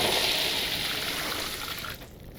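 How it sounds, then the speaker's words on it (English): In the video game LOTRO, water sloshes and splashes from a bucket in a soft, continuous rushing wash that fades away after about two seconds, fairly quiet and alone. "Water sloshes over the sides of the bucket."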